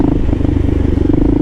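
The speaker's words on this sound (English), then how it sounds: "You kind of can hear it in the engine too. It's just not firing like quite like it's at its best." A Kawasaki KLR650 motorcycle engine running poorly at night in Brooklyn, its close, steady low idle thrumming with uneven, stumbling pulses and no voices.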